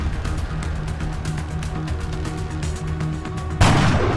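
A gunshot in the turn-based strategy game XCOM Enemy Within: a sudden loud blast near the end, rising out of a steady background of game noise and rhythmic thudding.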